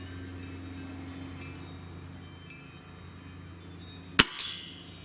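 A Gamo Swarm Magnum Gen3i air rifle pellet striking a small pipe outdoors, a single sharp metallic crack near the end over a low steady background hum, followed by a brief ringing tail.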